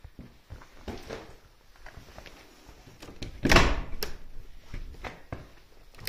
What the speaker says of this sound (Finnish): Mennäänkö tuosta ovesta kartanolle